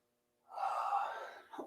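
A single deep breath during a morning movement warm-up, a breathy exhale of about a second, close and soft, with a short catch at the end.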